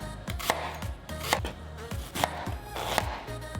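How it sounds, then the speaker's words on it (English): A knife dices half an onion very finely on a cutting board in a rapid, regular run of sharp close taps, each followed by a low board thump. No one speaks over the chopping. "I'm dicing it really, really finely too, since it's going in a dip."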